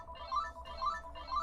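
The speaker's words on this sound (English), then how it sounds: "That's a family ringtone." A phone plays a short repeating ringtone melody, three quick rising chimes in steady succession, moderately loud and close, with no talking over it.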